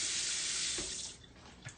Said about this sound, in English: Water in that, soak it.